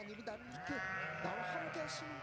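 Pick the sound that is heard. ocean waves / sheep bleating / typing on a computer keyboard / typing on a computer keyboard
sheep bleating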